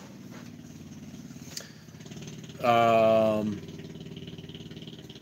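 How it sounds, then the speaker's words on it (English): Dirt bikes ridden at night near a truck stop south of Las Vegas, Nevada, with one engine surging loudly past for about a second over a low background hum, and a brief spoken word. "Guys riding dirt bikes here at night."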